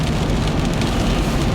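Rain after overnight snow drums on a car in a dense, steady patter, loud and close with a broad noisy wash and no speech.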